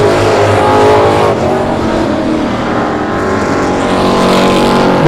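Race cars roar loudly around the backstretch of South Texas Speedway on the final lap, engines steady and dense with a car passing close by.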